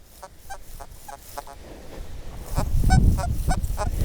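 An XP Deus 2 metal detector squeaks over a buried target, giving a string of short, high, warbling chirps at an uneven pace, close and clear, with a low rumbling noise building underneath in the second half and no talking.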